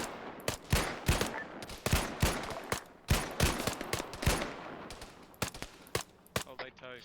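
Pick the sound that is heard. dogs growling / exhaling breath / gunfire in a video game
gunfire in a video game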